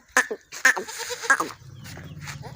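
A goat on a Pakistani goat farm bleats three times, loud and close, in short wavering calls, followed by a lower rumbling murmur.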